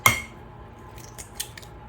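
Two eggs cracked into a bowl in a home kitchen while making Salisbury steak: a sharp crack at the start, then a few faint clicks and taps of shell against the bowl rim, with no talking.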